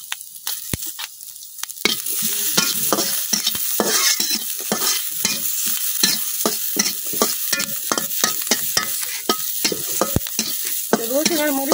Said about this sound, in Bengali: রসুন আর মরিচটা এখন আমি খুব ভালোভাবে বাজে লইলাম